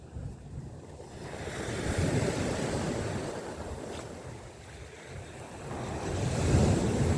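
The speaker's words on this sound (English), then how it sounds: "We got a few nice waves coming in, but nothing much." Sea waves roll onto a beach at Corton, a broad steady surf wash that swells and eases with gusty wind buffeting the microphone and no talking.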